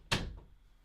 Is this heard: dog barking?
no